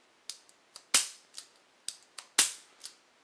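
Sharp, dry metallic clicks from a .22 rimfire pistol being handled and dry fired, about eight crisp snaps in an uneven sequence, two of them louder, close up with no talking.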